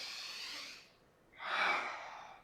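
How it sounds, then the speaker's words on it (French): A single audible inhale taken during a Pilates exercise, a soft breathy rush that swells and fades, preceded by a fainter exhale, close and quiet with no talking. "j'inspire."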